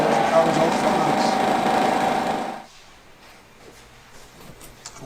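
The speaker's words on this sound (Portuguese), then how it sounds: "E agora ele está passando uma máquina de polimento." A polishing machine runs on a hi-fi speaker cabinet with a steady, dense whir. It stops abruptly partway through, leaving quiet workshop ambience.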